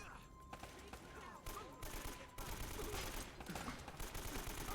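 Gunfire in the video game Uncharted: Drake's Fortune, rapid bursts of shots rattling over steady game noise, fairly faint throughout.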